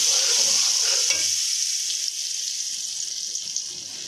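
Sugar syrup poured into roasted semolina for halwa, giving a loud steady sizzle and hiss with bubbling, with no talk.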